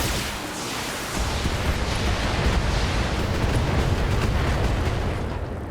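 A BattleMech in the video game BATTLETECH unloads all its weapons at once: a loud, dense barrage of overlapping blasts and booms that rumbles on without pause for several seconds, with no voices over it.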